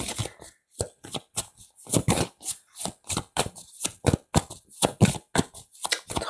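Tarot cards are shuffled briskly in a quick irregular patter of crisp riffles and slaps, loud and close, with no voice over them.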